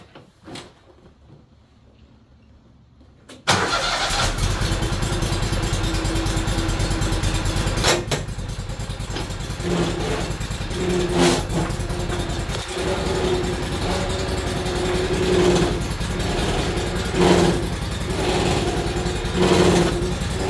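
A free-wheeling Toro Z Master zero-turn mower starts up and runs with a steady, loud mechanical drone and chatter from a weak right hydraulic pump, with a few knocks and surges over the running noise.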